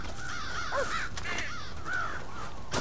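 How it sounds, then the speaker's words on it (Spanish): A flock of crows at a silo in the game Red Dead Redemption, a few rough caws rising and falling at irregular intervals over a constant noisy outdoor ambience, with a sharp click near the end. "hay que espantar a los cuervos del silo"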